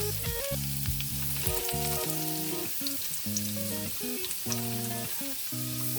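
Potatoes O'Brien fry in a pan with a steady, close sizzling hiss running throughout, under prominent background music.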